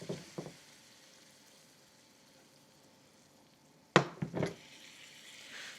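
A steak cooks in a pan with olive oil, giving a faint, steady low sizzle, with a few short clattering bursts near the start and again toward the end.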